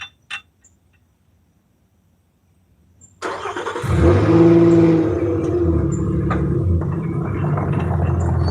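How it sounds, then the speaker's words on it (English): A truck engine cranks and catches at a riverbank, then settles into a steady, close, rumbling idle with a slightly rising rev, no talk over it. "It will happen when I start this truck."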